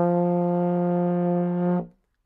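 Trombone holding a single sustained F note in first position, a steady brassy tone with rich harmonics, close and loud, ending cleanly after almost two seconds.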